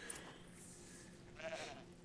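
A goat bleats in Horizon Zero Dawn, a short wavering cry rising briefly over quiet game ambience, fairly faint and alone.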